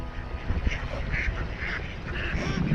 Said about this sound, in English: Man, it's a bunch of mallards.